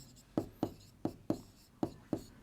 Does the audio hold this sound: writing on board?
yes